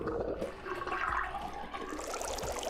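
A sink drains in the video game Zero Time Dilemma, water gurgling and rushing at moderate volume, swelling then settling into a trickle over a couple of seconds, with no voices.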